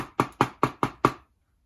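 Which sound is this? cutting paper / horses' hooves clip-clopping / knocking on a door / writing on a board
knocking on a door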